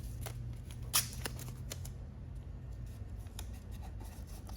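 Adhesive tape pulled and pressed in place while fitting a Garmin Zumo XT mount on a 2022+ BMW K1600, heard as soft close rustles and rubbing with one sharper crackle early on, over a low steady hum.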